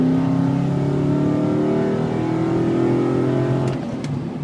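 A lifted 2004 Nissan Titan 4x4 LE on oversized tires revs its engine close by, a loud steady drone that swells slightly before easing off near the end.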